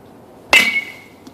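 A Rawlings 5150 adult BESR aluminum baseball bat striking a ball: one sharp metallic ping with a bright ringing tail, clear and close, with no voices.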